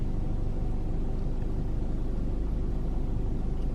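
Steady low rumble of a rideshare car's engine and road noise while driving, constant and close from inside the cabin, with no talking.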